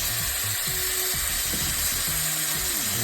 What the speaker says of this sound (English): We're gonna fry this up, saute it up a little bit more.